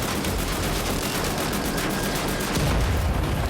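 Rapid sustained gunfire from the video game Wolfenstein: The New Order, aimed at a Nazi super soldier, a dense loud crackling burst that never lets up and carries no talk.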